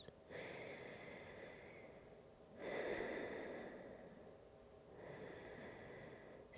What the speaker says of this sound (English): Listen to the sound of your breath.